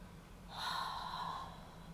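One long, forceful breath out during a floor exercise with the knee drawn toward the ground, a close, steady rush of air lasting about a second before it fades.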